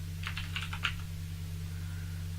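A command is typed on a computer keyboard, a short burst of about half a dozen light keystrokes over a steady electrical hum, followed by quiet.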